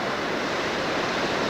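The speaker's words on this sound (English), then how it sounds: "The falls coming off the rocks up there." A waterfall pours off rocks in a small Glacier National Park canyon fed by melting snowbanks, giving a steady, loud, unbroken rush of white water.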